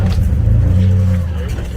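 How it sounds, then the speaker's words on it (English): A car engine held at full throttle with wheels spinning off-road, a steady heavy drone with a rising revving tone, loud and close, while a person talks over it. "Let it spin a little bit. No brake or anything, just full throttle."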